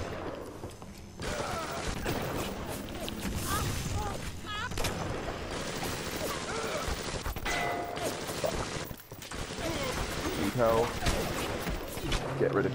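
Gunfire in the BioShock video game: dense, continuous bursts of shots and booms during combat, with a short lull near nine seconds, while someone talks over the action.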